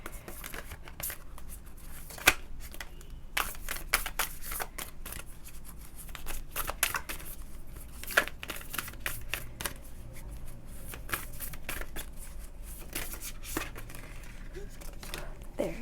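Oracle cards are shuffled by hand in a steady series of crisp riffling and slapping bursts, close and moderately loud throughout, with sharp flicks standing out now and then.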